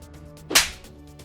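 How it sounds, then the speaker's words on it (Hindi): One sharp, loud slap across the face in a heated household quarrel between a mother-in-law and daughter-in-law, a single crisp smack standing out against quiet background. "तूने मुझे थप्पड़ मारा?"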